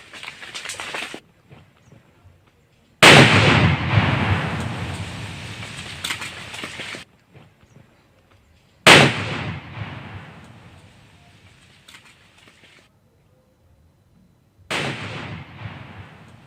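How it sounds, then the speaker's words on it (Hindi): A Naxalite IED blast hits a pickup vehicle in Dantewada, heard as three sudden loud booming explosions, each with a long rumbling decay, separated by near silence. "आईईडी ब्लास्ट हुआ है"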